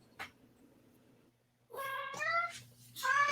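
A pet cat meows several times at close range, with drawn-out, rising cries after a brief quiet spell and a faint hum beneath.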